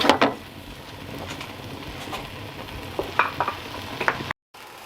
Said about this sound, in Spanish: añadir nuestros tordeznos desalados y picados y dejar que se terminen de hacer todo junto al fuego